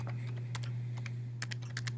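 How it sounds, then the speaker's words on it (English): A date being typed on a computer keyboard: about a dozen quick light key clicks in uneven bursts over a steady low electrical hum, no speech. "if they're typing the wrong date"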